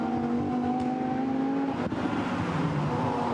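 Lamborghini Super Trofeo race cars accelerating hard on the circuit at Spa, a loud sustained engine drone with steady harmonic tones, rising under power and passing close by throughout.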